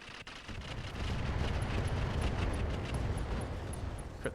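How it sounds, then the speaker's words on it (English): Rockets exploding in the BattleTech game with the RogueTech overhaul mod, heard as a sustained, loud, low rumbling barrage of blasts and crackling debris that runs throughout with no talk. "Rockets exploded."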